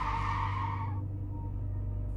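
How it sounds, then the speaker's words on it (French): A car skids to an abrupt stop, a loud tire squeal with a rumbling engine that cuts off sharply after about a second, leaving a low hum alone. "La voiture a dérapé avant de s'arrêter net"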